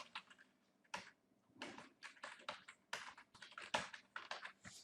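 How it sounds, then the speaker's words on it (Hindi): Someone types an address on a computer keyboard in quick irregular bursts of close, crisp key clicks separated by short pauses, quiet and without talk. "इसमें इंग्लिश में हम पूरा एड्रेस टाइप कर देते हैं"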